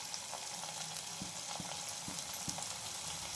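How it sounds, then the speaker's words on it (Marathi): Pumpkin fritter batter dropped into fully heated oil, a soft continuous sizzle and bubbling with a few faint clicks of a utensil against the pan. "तर तेल पण पूर्ण तापून घेतलेलं आहे आणि त्याच्यामध्ये असे सोडायचे"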